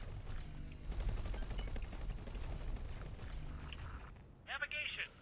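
Weapons fire in the space video game X4 Ventures, with rapid bursts of shots and impacts rattling in quick pulses, then a brief sharp electronic warble near the end, all under a voice.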